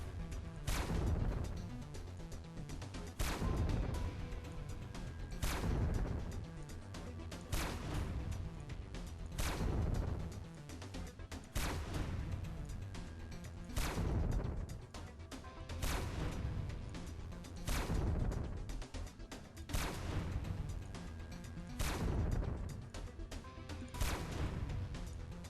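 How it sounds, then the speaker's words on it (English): Heavy weapon fire and explosions from a space battle in the video game Horizon, where a spaceship is blown up, come as loud, evenly spaced booming blasts roughly every two seconds over a low rumbling background. "So I might be able to blow up the ship here."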